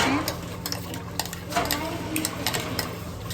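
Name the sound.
ground fried onion added and stirred into nihari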